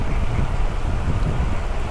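Strong wind blowing across an open outdoor spot in Manado, a continuous loud rumbling buffet of gusts hitting the microphone with no other sounds.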